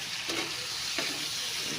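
Shrimp frying in butter in a pan, a soft steady sizzle with a couple of brief stirring clicks, fairly quiet and without talk.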